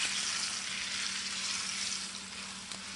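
Chuck roast sears in hot oil in a non-stick pan, giving a steady, dense sizzle and crackle close by with no talking, easing slightly toward the end.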